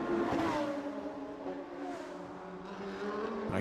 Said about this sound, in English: As we watch this car round turns 1 and 2